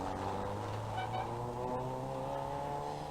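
A Peugeot rally car on the 1991 West Cork Rally roars by with a loud, sustained engine note that shifts slightly in pitch as it passes, close and alone without talk.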